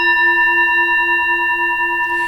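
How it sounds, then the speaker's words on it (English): A single sustained F note rings out clear and pure, a steady singing-bowl-like tone with bright overtones holding evenly for a couple of seconds with nothing else around it. "And the heart chakra is the F note, and it sounds like this."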